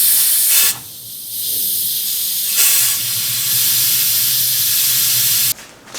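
Compressed air blasted into a gear oil tube on a turbocharged Nissan S13 240SX, a loud steady hiss lasting most of the moment, with brief breaks where the air cuts and restarts.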